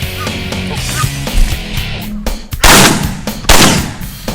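Shotgun blasts boom during a goose hunt in northern Saskatchewan, a few sharp loud reports in quick succession with geese calling in the background, and little or no talk.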